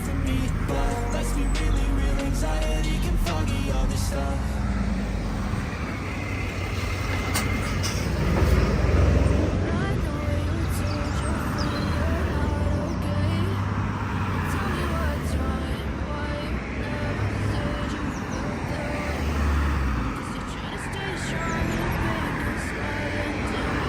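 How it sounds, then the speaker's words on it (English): Busy road traffic through the middle of Crawley town, vehicles moving fast, makes a dense, continuous roar close by that stays loud and steady throughout. "let's hopefully get away from that busy road in a moment"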